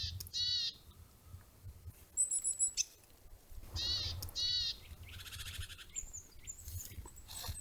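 Wild birds call outdoors in short bursts of chirps and squawks, some near and bright, others thinner and farther off, over quiet low background noise, with no talking.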